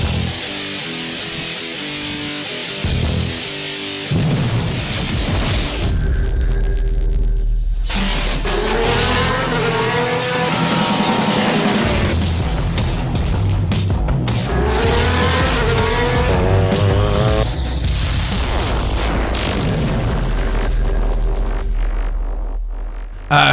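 Street race cars in GTA Online, a Fukara GT Sport racing event, roaring through the game world with rising and falling engine revs, gear shifts and bursts of tire squeal, loud and continuous with no talking.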